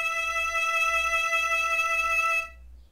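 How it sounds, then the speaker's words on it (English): Open A string bowed on a violin in first position, one steady sustained note held for about two and a half seconds before stopping, close and clear with no talking. "on our A string. We start with the open A."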